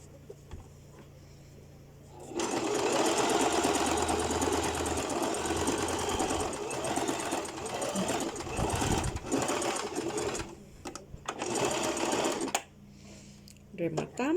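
A sewing machine stitches a knife-pleat skirt in a close, rapid mechanical whir, running steadily for several seconds, pausing briefly, then resuming in short bursts before stopping.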